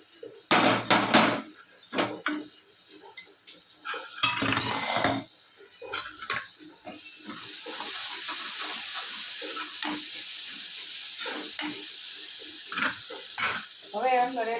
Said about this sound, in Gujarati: હવે એને આપણે થોડીક વાર સાતળવા દઈએ.